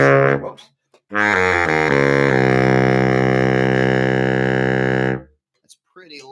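A baritone saxophone sounds its lowest note, low A, reached with an extra key alongside low B-flat: a few short wobbly attempts, then a deep, buzzy sustained tone held for about four seconds, loud and close, with brief talk around it.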